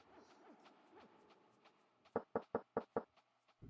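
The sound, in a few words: knocking on a door in video game Quest for Glory 2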